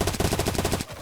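Mag 10 shotgun fire in a competitive video game match, a rapid burst of about a dozen heavy evenly spaced shots, loud and close, ending abruptly.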